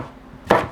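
A knife chops through a potato on a cutting board in a single sharp cut, loud and close after a quiet moment.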